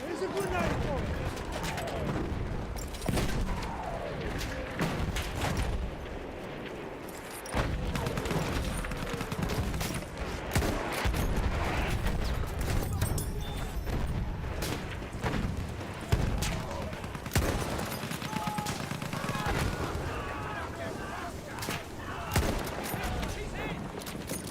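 Dense, continuous gunfire and explosive booms from a Battlefield 1 firefight, rapid rifle and machine-gun bursts overlapping with distant artillery, loud throughout with a voice talking underneath.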